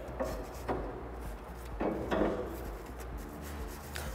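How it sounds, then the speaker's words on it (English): A brush scrubs sand off a freshly poured metal casting in a foundry sand-moulding lab, giving soft, uneven rasping strokes, close and fairly quiet, with no talk. "Now you need to clean the casting with the help of brush."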